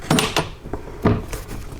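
Plastic air box cover being closed on a Kia Sorento 3.3-litre V6 engine, a few sharp plastic clacks and knocks close by, two main impacts about a second apart with smaller taps in between.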